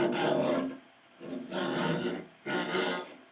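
A string is bowed behind the bridge on the A string with heavy pressure, giving harsh, noisy, scratchy rasps in three long strokes separated by short pauses, close and moderately loud.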